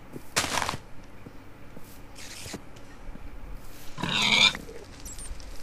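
A pig grunting in the video game The Source, a few short squealing grunts in separate bursts over a faint game background hum, with the loudest near the end.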